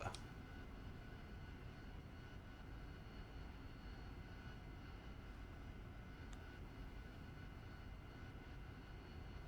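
Steady jet engine roar of a Harrier in the flight simulator DCS, a continuous even drone at moderate level with a couple of faint clicks.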